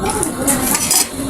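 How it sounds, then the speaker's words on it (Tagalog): A metal spoon is picked up with bright clinks and scrapes against dishes and other cutlery, close and crisp over a short moment. "Kuha muna ako ng kutsara."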